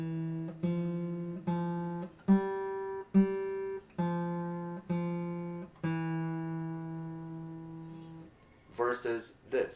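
Classical guitar D string plucked with the bare flesh of the thumb, no fingernail, a series of soft, rounded single notes at a slow even pace, fairly quiet and close, with a voice starting to talk at the very end.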